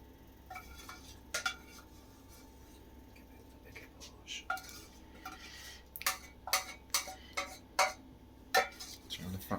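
Chickpea curry being dished up at home, with plates and cutlery clinking in a run of sharp knocks and scrapes that grow busier toward the end, under faint background noise and occasional speech.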